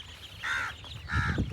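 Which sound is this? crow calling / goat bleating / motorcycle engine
crow calling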